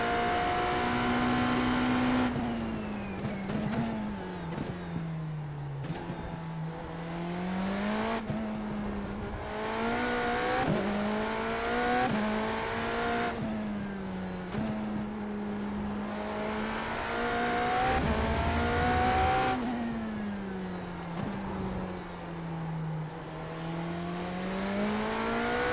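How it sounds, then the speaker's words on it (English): IMSA LMDh prototype race car at Fuji on a qualifying pace lap, its engine droning steadily and loudly throughout, pitch rising and falling through repeated upshifts and downshifts as it works heat into tires and brakes. "So this is our pace lap for qualifying."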